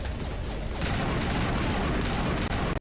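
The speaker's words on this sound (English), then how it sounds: "Getting shot at by actual hostile enemy forces" Hostile enemy forces firing at the player in Mass Effect Legendary Edition, a dense, continuous rattle of gunfire and impacts at steady loudness, with no talking.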